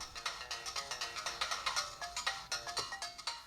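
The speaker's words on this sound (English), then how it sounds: "here's what the Game Boy Advance sounds like with max volume" Bright, chiptune-style melody from a Game Boy Advance SP handheld turned up to max volume, a rapid run of short, evenly pulsed tones repeating steadily and loud with no talking.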